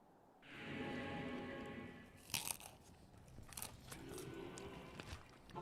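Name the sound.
munching on raw broccoli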